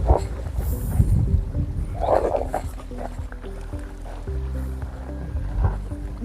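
A motorboat pulls in on the Narmada river by Mandwa village, ringed by hills, its engine a steady droning hum with splashing and rumble close by, loud throughout and without talk.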